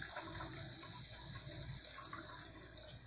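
Water splashing onto a hot glass lid resting on a stovetop that was just switched off, a continuous rushing hiss and spatter at moderate, steady level with no voices.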